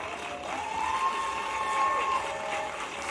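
A church congregation applauding, a dense wash of clapping filling the space at moderate distance, with a voice and a sustained tone sounding over it.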